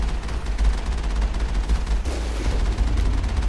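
Rapid gunfire from the Mako vehicle in the Mass Effect video game, firing up an incline as a dense, continuous barrage of shots over a heavy low rumble, loud and with no talking.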